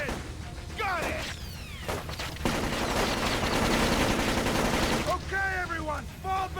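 Gunfire in the stealth shooter Splinter Cell: Double Agent (Xbox, 2006) crackles in dense rapid bursts over a constant hiss of sprinklers, with voices calling out between shots.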